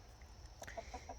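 Hens cluck in short, soft, repeated calls inside a wooden farm coop with perches, where the birds are brooding eggs. The calls sound close and fairly quiet over a low background hum.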